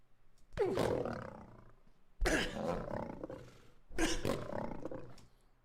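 Lion roar sound effect built for a game in progress, three separate loud, rough roars, each with a sudden onset and a long fading growl, alone with no talk.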